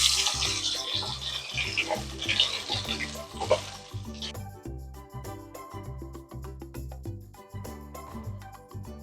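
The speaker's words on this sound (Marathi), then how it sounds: "हे वाटप मी पूर्णपणे तेलावरती भाजून घेते." Ground spice paste sizzles as it fries in hot oil with browned garlic for chicken sukka. A steady, hissing sizzle is strongest in the first few seconds, with background music playing throughout.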